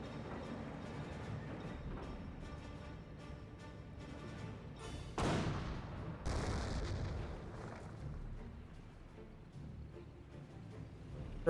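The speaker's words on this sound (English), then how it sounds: "Looks like just German barraging right here at the point" German artillery barrage in Company of Heroes 1 battle, with heavy booming impacts around five and six seconds over a low rumble of distant gunfire.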